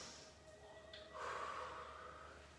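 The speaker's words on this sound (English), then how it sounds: "Just have a couple of big breaths in." A big breath drawn in during a Pilates workout, a breathy rushing inhale swelling midway and fading slowly, quiet and close with no talking.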